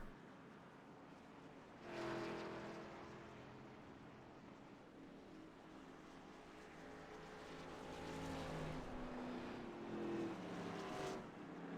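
Race car engines drone in a sim racing game at Auto Club Speedway as the number 72 car heads down pit road, a faint, steady hum that swells in a few broad passes.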